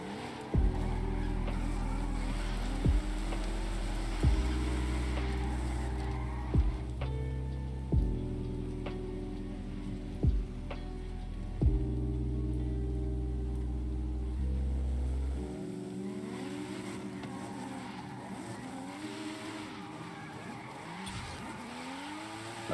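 A car drifting in Forza Horizon 5, its engine revving hard and climbing repeatedly through the gears with sharp shift breaks every few seconds, then dropping away into tire noise and a quieter, rumbling idle.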